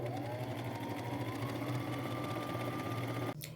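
A sewing machine stitches fabric down in one continuous, steady whir close by, running alone until it stops abruptly near the end.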